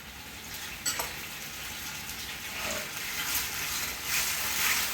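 Red wine vinegar hits a hot frying pan and sizzles with a steady crackle, a few soft clinks of stirring over it, close and moderately loud with no talking.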